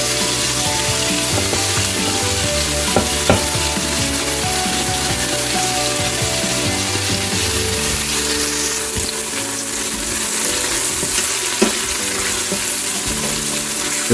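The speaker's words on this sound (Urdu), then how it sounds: "اس کو ہم بھونیں گے جب تک پیاز جو ہے تھوڑی براؤن نہیں ہو جائے یا گولڈن کلر کی نہیں ہو جائے." Finely chopped medium onion frying in a pan for aloo keema, with a steady crackling sizzle, close up, plus occasional clinks and stirring knocks.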